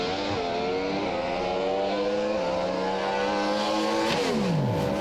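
A Pro Stock drag racing car making a run at Willowbank Raceway, its engine screaming at high pitch and climbing through several sharp gear shifts, loud and constant, with one tone dropping away toward the end.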